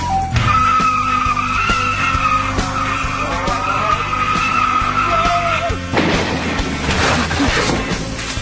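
Cars skidding at speed, loud sustained tire squeals that slide in pitch, followed by a rough crunching crash and scraping of metal, close and forceful with no voices.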